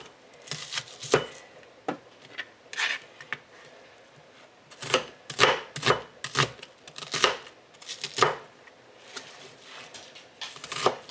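Vegetables being coarsely chopped for a rainy-day soup: a knife thuds onto a cutting board in irregular clusters of crisp, close chops separated by brief pauses, with no talking.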